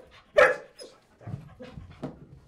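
A mixed-breed police dog, part German Shepherd and Belgian Malinois, gives a sharp close bark followed by a few softer woofs and whimpering vocalizations, isolated with quiet gaps between.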